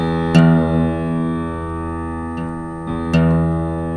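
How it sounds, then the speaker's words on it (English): A sustained plucked guitar E string rings steadily, re-struck a few times as its flat pitch is tuned up, with no talking. "The E string now, I can hear it's flat. So I simply tune"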